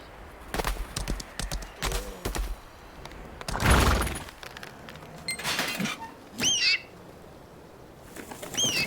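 Pigeons flapping their wings in the video game Lost Ark, with bursts of fluttering wingbeats spread across the scene amid other game effects, including a louder rush near the middle and a few short chirps later on.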